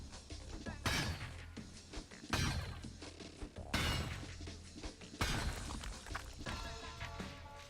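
Pickaxe strikes breaking copper deposits in the video game Valheim, four loud crashing impacts spaced about a second and a half apart, each followed by a shattering, crumbling tail over steady background ambience.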